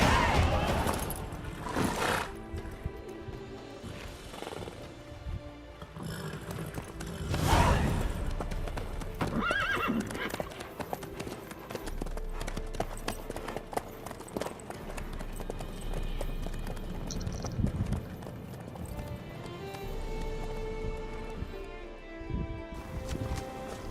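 Hooves clip-clop steadily on a road in The Witcher 3, with occasional neighs and snorts, alongside music and ambient game sound, and a few voices speaking at times.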